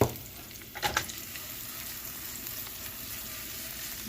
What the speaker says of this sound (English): add salt, which will help the onions caramelize faster if you have salt in the oil